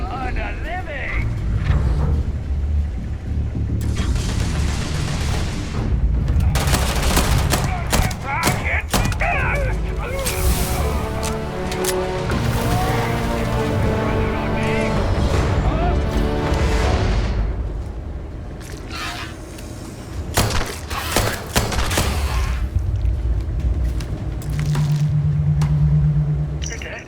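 Gunfire in a Starfield firefight, heavy booming shots and thuds in rapid bursts over a rumbling mix, loud and close, with brief lulls and voices talking between volleys.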